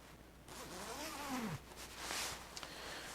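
A one-way side zipper on puffy insulated ski pants is pulled from bottom to top, a close, quiet rasping zip lasting a couple of seconds, followed by soft fabric rustle and a brief second pull.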